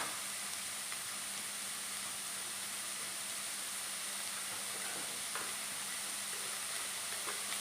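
Onions sauté in a pan for egg curry, giving a steady, faint sizzle and hiss with occasional soft stirring scrapes throughout, no talking.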